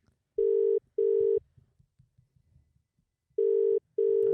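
Telephone ringing in two pairs of steady electronic rings, each pair a quick double burst, separated by a quiet gap with soft background murmur and light noise.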